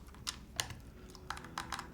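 A short run of crisp keystrokes on a custom Kangaroo mechanical keyboard, about six clacks in uneven rhythm, close and fairly quiet, with no talk.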